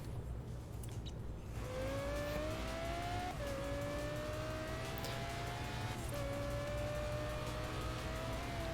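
Race cars in a Forza video game, with engines whining up through the gears after a quieter opening and two clear upshifts, under a continuous loud rumble of road and engine noise.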